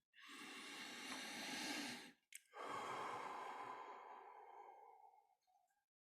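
A slow, deep guided in-breath during a meditation, a long airy inhalation followed after a short pause by another extended breath that tapers off softly, close and intimate with no talking.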